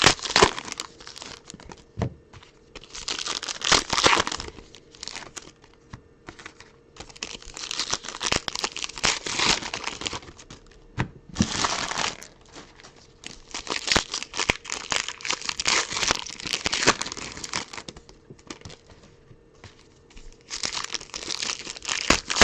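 Foil baseball card packs are ripped open and crinkled by hand, repeated bursts of sharp crackling and tearing separated by short quiet gaps, close and fairly faint with no talking.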